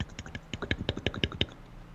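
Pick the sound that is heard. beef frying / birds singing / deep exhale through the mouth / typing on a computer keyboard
typing on a computer keyboard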